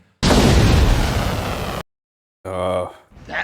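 A missile launch in the animated film The Iron Giant: a loud roaring blast lasting over a second and cutting off sharply, followed after a brief silence by tonal voice-like sounds.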